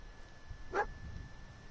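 Dogmeat, the canine companion in Fallout 4, gives a single short bark, quiet and slightly distant, with faint game ambience around it.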